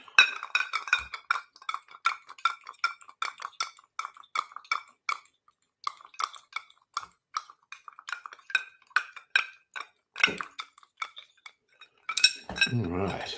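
Ice cubes clink against a glass as a cocktail is stirred, a steady rhythm of close, bright taps and rattles, with a heavier clatter near the end.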